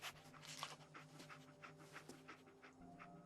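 Dogmeat, the companion dog in the video game Fallout 4, pants in a steady, rapid rhythm of breathy huffs, close and continuous with no talking.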